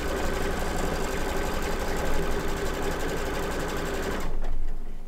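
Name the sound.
embroidery machine sewing tack-down stitches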